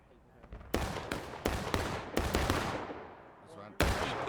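Musket volleys crackle through a large Civil War battle in War of Rights, sharp loud reports arriving in irregular bursts with scattered distant shots between them, echoing across the field.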